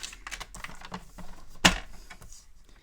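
Paper is trimmed to 5 cm for a mini scrapbook album, heard as a run of light clicks and taps followed by one sharp, loud snap of the cutter, then quieter handling.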